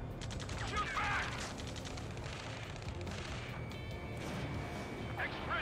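Muffled, rapid bursts of gunfire and explosions from the video game Ace Combat 7 play fairly quietly under a continuous din of battle noise, with faint radio-style voices mixed in.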